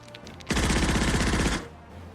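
Gunfire in the Nations At War Digital war video game: a dense, loud burst of rapid automatic shots lasting about a second, beginning abruptly and cutting off, with quiet ambience before and after.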